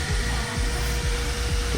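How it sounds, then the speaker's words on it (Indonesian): Cooling fan in the charger of a Polytron Fox R electric scooter, a loud, steady close-up whir like a CPU fan with a faint rhythmic pulsing underneath, running alone without voices. "Untuk suara kipasnya seperti ini,"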